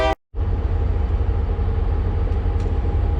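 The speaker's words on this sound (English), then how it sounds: "I'm gonna pause because the train's coming" A train rolling past nearby, a loud, continuous low rumble with mechanical grinding that holds steady after a brief cut, with a couple of faint high squeals and no talking.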